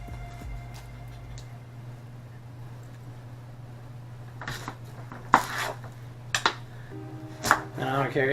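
A knife chops half a red onion on a board: after a quiet stretch with a low steady hum, a handful of sharp, irregular chops land close by in the second half.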